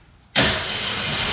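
A car engine cranks and catches abruptly, then settles into a loud, steady run close by, with no talk over it.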